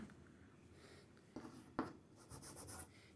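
Quiet writing strokes scratch across a board during a physics lesson on electric fields, in a few faint, separate bursts with no talking.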